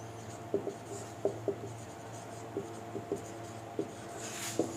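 Chalk or marker strokes on a classroom board during a lecture, a series of short scratchy taps and squeaks spaced irregularly over a steady low hum, close and fairly quiet.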